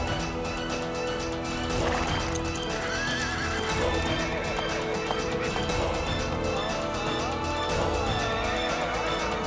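A horse neighs loudly while hooves clop in a quick, driving rhythm, close and busy throughout, with dramatic music layered underneath.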